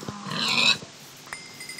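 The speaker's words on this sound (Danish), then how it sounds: "Og nu bliver jeg nødt til at gå ud og nakke en gris." A Minecraft pig in a Tekkit modded game gives one short nasal grunt, close and fairly loud, followed by a couple of faint game clicks.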